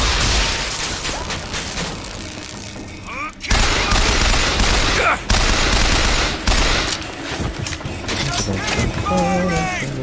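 Sustained automatic and burst gunfire from a Bioshock Infinite firefight, loud and dense, with a short break partway through and voices calling out over the shooting.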